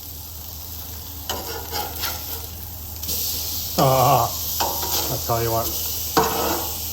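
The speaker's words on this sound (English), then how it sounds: "That's good enough to sear some steak. Well, let's get them on." Chuck eye steaks searing on a Blackstone Culinary single-burner flat top griddle, a steady sizzle with metallic spatula scrapes and clinks in short bursts, someone talking briefly over the cooking.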